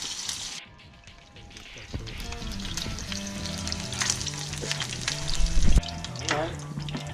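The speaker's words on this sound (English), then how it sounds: "I got the oil good and hot, and I'm going to drop the two salt and pepper fillets in first" Salt and pepper fish fillets sizzle loudly in hot oil, a steady dense crackle that swells as the fillets drop in, with occasional stirring and liquid sounds mixed through.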